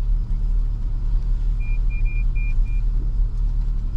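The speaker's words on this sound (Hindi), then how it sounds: "गाड़ी भी नीचे लग रही है" Car creeping at near-zero speed along a rough track to Rait Castle near Inverness in the Scottish Highlands, its underside scraping the ground; steady low engine rumble with a few faint high beeps in the middle, no talk.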